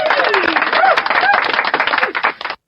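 A burst of crowd applause with dense, rapid clapping and some cheering voices mixed in, steady and loud, then dropping away abruptly after about two and a half seconds.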